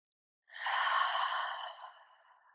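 A single deep, slow breath held in a yoga pose: a soft airy rush that rises quickly, holds steady, then tapers gently away as the exhale fades, close and quiet with no talking.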